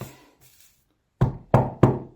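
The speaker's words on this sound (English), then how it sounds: "remember this knock?" Three firm knocks land on a door or wooden surface in an even, unhurried rhythm, close and loud, after a short stretch of faint background sound and near silence.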